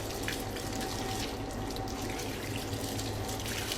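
Steady tap water runs and splashes continuously over a foot being washed at a sink during wudu, close and even with no talking.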